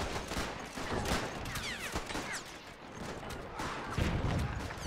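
Dense artillery cannon fire from a WW1 battle in the strategy game Between Empires, a continuous rumbling barrage of overlapping blasts with sharp cracks throughout, loud and sustained.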